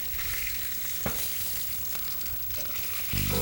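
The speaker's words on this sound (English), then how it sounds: "We're gonna keep browning our fish." Asian sea bass browns in an oil-filled pan with a continuous close sizzle. A few light stirring knocks and a scrape near the end rise over the crackle.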